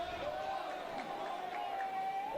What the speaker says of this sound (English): the crowd gets a little louder with every foul ball